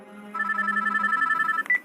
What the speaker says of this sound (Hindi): तभी पुष्कर के फोन पर उर्वी की माँ सुरभि का फोन आता है